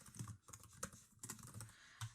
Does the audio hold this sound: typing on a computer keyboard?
yes